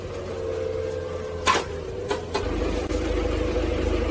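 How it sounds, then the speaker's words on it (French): A forklift engine works steadily while lifting a truck's dump bed after a reversing accident, with a mid-pitched motor hum, a few short clanks near the middle and a deeper rumble building toward the end. "ce maître du chariot élévateur va m'aider à soulever un peu pour voir si ça peut être soulevé"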